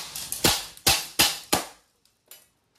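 A Crosman AK1 green-gas airgun fires semi-automatic: five sharp, loud cracks at uneven intervals, then a short pause and a quieter click with a sixth fainter shot, no talking.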